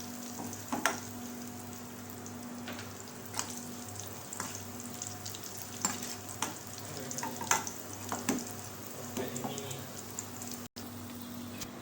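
Curry leaves and whole dried chillies frying in hot oil for a tadka, a steady close sizzle and crackle with scattered sharp pops, continuous throughout with no talking.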